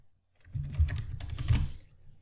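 Keys clatter on a computer keyboard as data is typed into a spreadsheet, a quick close burst of soft clicks after a brief silence, with no talk.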